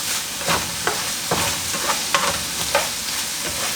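Mushrooms cooking in a pan for beef stroganoff, with a steady frying hiss broken by intermittent clinks and stirring scrapes of a utensil at moderate loudness, no voices.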